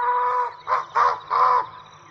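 A shrill bird call in a 1984 radio drama of Watership Down, three harsh, strident squawks in quick succession, loud and close over a low steady background hum.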